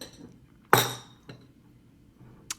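A metal knife clinks against a muffin tin while easing out gluten-free banana muffins: one sharp clink, then two fainter taps, close and in a quiet kitchen.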